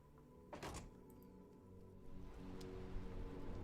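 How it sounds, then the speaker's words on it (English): A door thuds shut in Disco Elysium, a single close thunk over a low ambient background with faint rain-like texture. "Close the door."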